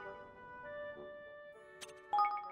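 A bright, tonal save chime from the video game Ni No Kuni II: Revenant Kingdom, with sustained melodic notes building to a ringing flourish at the end.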